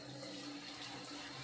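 Running water splashing steadily during a dog's bath, poured close by in a continuous, even stream with no voices.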